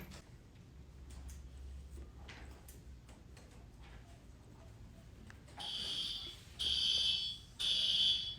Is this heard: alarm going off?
yes